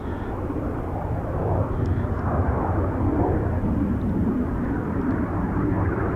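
A Eurofighter Typhoon jet roaring through a turn near RAF Coningsby, a broad, steady engine rumble that swells slightly and holds loud and continuous.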